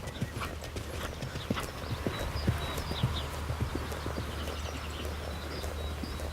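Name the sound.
horse trotting on a diagonal, hooves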